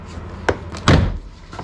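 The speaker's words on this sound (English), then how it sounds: "with the trim remover into the corner, you'll just be able to pop off the actual door cards" An Audi A5 Sportback door card being popped off with a plastic trim remover: a sharp click followed by a louder, slightly drawn-out snap of releasing clips, then a faint tap, close and without talk.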